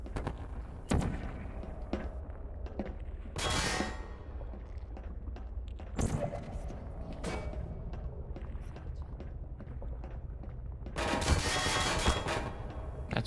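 Portal gun shots fired in the game Portal 2, a series of loud sharp blasts with bursts of crackling energy, repeated at irregular intervals over a steady background hum.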